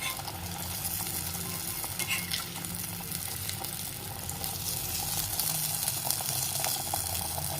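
Paneer murukku dough dropped into hot oil to puff up as burelu, a steady crackling sizzle of deep frying that continues evenly throughout, close and fairly loud with no voices.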